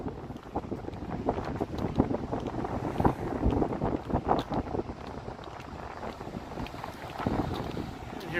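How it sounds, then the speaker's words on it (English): Gusty wind buffets a microphone outdoors on a city street, producing a continuous, loud, rumbling roar with sharp gust surges throughout and no speech. "And here comes that wind."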